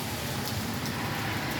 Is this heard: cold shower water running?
no